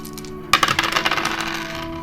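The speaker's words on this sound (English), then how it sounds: "So I'm going to go ahead and throw some dice for the energetical level." Dice clatter onto a hard surface in a quick burst of bright clicks and rattles that settle and fade within about a second and a half; no talk.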